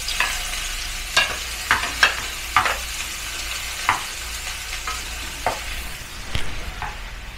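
Onion and garlic fry with shrimp in a pan, a steady sizzle beneath repeated sharp clicks and scrapes of a utensil stirring, spaced irregularly over several seconds with no talking.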